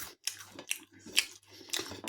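Someone chews crunchy Lidl air-fried straight cut frozen chips with tomato sauce, some browned and burnt at the edges, making about four or five close, crisp crunching bites separated by short quiet gaps.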